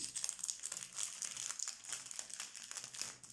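A pink-and-black Chabi-style greeting card is unwrapped from its packaging, giving close, continuous crinkling and rustling of plastic or paper over about three seconds, with no talking.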